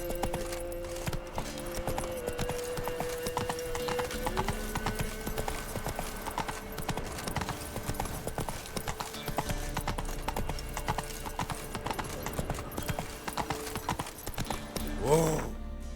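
The horse Roach from The Witcher 3 gallops in a steady, fast clip-clop of hooves that runs the whole time under game music, with a brief snort or whinny near the end.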